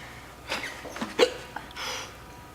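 A person hiccups several times, short abrupt gulping bursts with breathy sounds between them, close and moderately loud.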